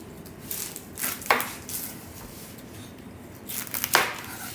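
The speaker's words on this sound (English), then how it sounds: "So we're gonna cut the onion open." A knife cuts an onion open on a board in a home kitchen: a few crisp, close chopping cuts in two short bursts, with a pan faintly heating in the background.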